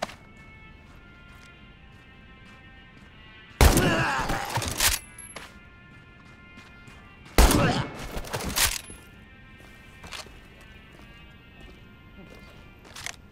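Two loud bursts of rapid shots from the Rough Rider lever-action rifle in Medal of Honor: Above and Beyond, slam-fired in quick volleys a few seconds apart, with quieter mechanical clicks and a faint voice in between.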